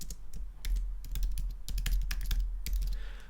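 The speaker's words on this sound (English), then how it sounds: "And then you would type in your content." Rapid typing on a computer keyboard, a quiet, irregular patter of close key clicks with brief pauses between bursts.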